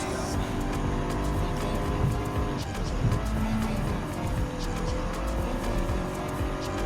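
Race cars in Gran Turismo 7 jostle to overtake on track, a steady, loud drone of engines with shifting revs and brief tire squeal running throughout.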